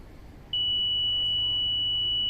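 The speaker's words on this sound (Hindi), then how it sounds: "क्लोजिंग थोड़ा सा समय लेगी, अपने ये सारे मैसेजेस आपको बीप के साथ सुनाई देंगे" An EVM control unit in a mock-poll election training setup gives a sustained electronic beep as the poll closes. The high, steady tone starts after about half a second and holds to the end over a faint low hum.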